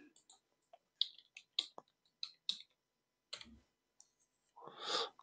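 A computer mouse clicks crisply several times at uneven intervals while a user creates an Active Directory user account, each click sharp and close, ending with a brief breathy rustle.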